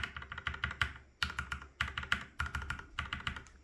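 Keys on a TH66 Pro mechanical keyboard, some stock and some lubed, are pressed in quick rhythmic bursts of clacky taps, close and crisp, with brief pauses between runs.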